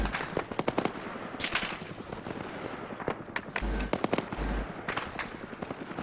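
Gunfire crackles in a video game battle, with rapid machine-gun bursts and scattered single shots, and a couple of low booms from tank fire. The fire comes close and loud in uneven clusters while players talk now and then.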